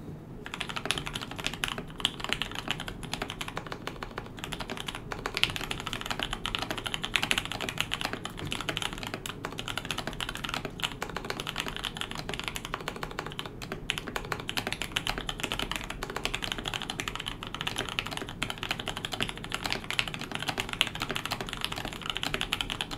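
A newly built KBD75v2 mechanical keyboard clatters through a fast, steady typing run, dense close keystrokes continuing for over twenty seconds with no talking.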